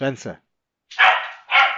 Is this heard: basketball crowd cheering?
no